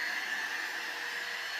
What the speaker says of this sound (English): I was ready with my floor vacuum, and I started vacuuming the stairs.